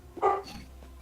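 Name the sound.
dog barking outside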